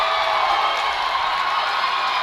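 Baseball crowd cheering at a high school playoff semifinal game as the Eagles take the lead, a dense steady roar of shouts and whoops filling the whole moment, loud and continuous.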